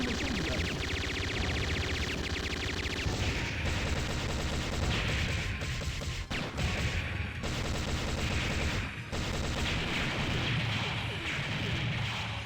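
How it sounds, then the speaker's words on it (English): Rapid heavy machine gun fire in the Metal Slug arcade game, dense crackling bursts layered over explosions and a driving game soundtrack, loud and continuous throughout. "Heavy machine gun."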